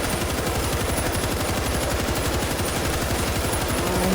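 Sustained automatic gunfire in the zombie shooter game World War Z, a dense rapid stream of shots continuing unbroken and loud.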